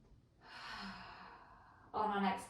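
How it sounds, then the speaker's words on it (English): Slow, audible yoga breaths during a vinyasa flow, a long soft exhale followed by a sharper, louder breath, heard up close and alone. "Breathing here."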